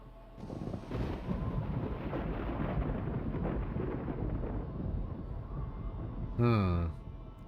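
Thunder from lightning in the Voices of the Void video game rolls as a long, low, rumbling wash that fills most of the stretch, with a brief sharper sweep near the end.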